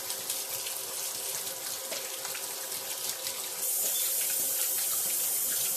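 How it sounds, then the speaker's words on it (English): Tap water pours steadily into a kitchen sink for handwashing, a continuous bright splashing hiss that jumps louder and fuller partway through as the flow changes, with no voices. "I'm finna go ahead and wash my hands."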